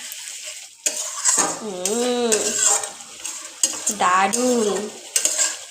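Fried potatoes being stirred with spices in a pan, with the spoon scraping and clinking in an irregular rhythm over a steady sizzle. A voice talks over it at close range.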